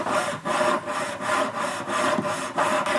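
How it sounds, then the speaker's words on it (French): A hand saw cuts steadily through thick silver metal being shaped into a dogtag, with repeated back-and-forth strokes in a regular rhythm, close and fairly loud with no talking. "là, tu scies une méga épaisseur de métal"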